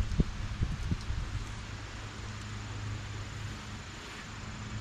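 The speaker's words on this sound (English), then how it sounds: "You can tell fall's coming because the wind is starting to blow leaves off the trees." Autumn wind blowing through trees and rustling fallen leaves outdoors, a steady broadband hiss with a few soft low thumps near the start and no voices.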